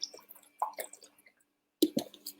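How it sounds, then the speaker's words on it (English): A person drinking water up close: soft sips, wet gulps and swallowing sounds come in short irregular bursts, broken by a brief silent pause before a few more swallows. "I'm just drinking my water."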